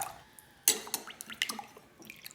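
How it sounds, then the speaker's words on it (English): Borax activator poured into a store-bought lemon glue slime mixture, with a sharp splash followed by a run of small wet drips and gloopy plops, close and alone. "Then I also made some borax activator and poured it into our glue lemon store-bought slime mess"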